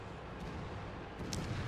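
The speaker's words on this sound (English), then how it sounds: "Fires off a shot in the distance there, but that one was destined to miss." A World of Tanks tank cannon fires in the distance, a single muffled boom rising briefly out of a steady low battlefield rumble, faint rather than close.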